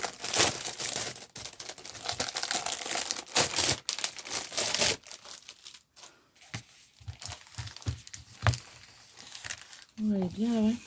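A plastic package from an online shopping haul is torn and crinkled open, with loud, irregular crackling and ripping bursts close up and a brief voice near the end.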